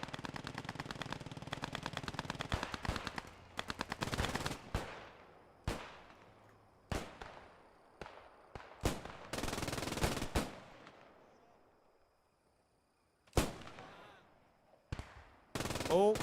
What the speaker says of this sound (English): the bridge soldiers are already firing